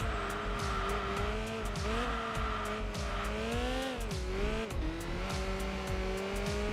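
Honda Accord engine in Enthusia Professional Racing pulling hard uphill, a steady loud rising drone with shifts in pitch, faint repeated ticks over the top, with no talking.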